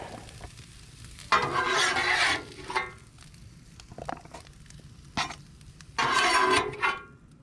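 Breakfast being scraped and lifted off a Blackstone griddle at a campsite, with two loud bursts of sizzling scraping and several short clinks and taps in between against a quiet background.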